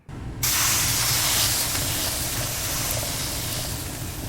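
Kebab meat cooking in the video game Kebab Chef Restaurant Simulator, a steady loud hissing sizzle that starts abruptly after a brief quiet moment and holds evenly throughout.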